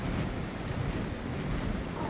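A waterfall rushes steadily in the background of a canyon area in Ark: Survival Ascended on the Ragnarok map, a dense, continuous wash of water noise with no pauses or voices.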